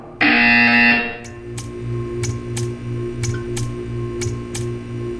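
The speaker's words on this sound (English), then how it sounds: "When you hear the buzzer, stare at the art." A loud, harsh electronic buzzer from the video game Portal blares for about a second, followed by a quiet hum with a series of sharp clicks.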